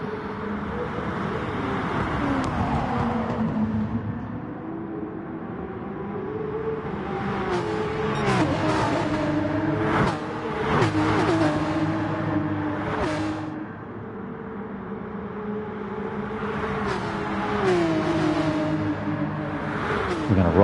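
Race cars in a video game circuit race, engines droning and shifting with rising pitches and a few quick passing bursts, under continuous commentary voice.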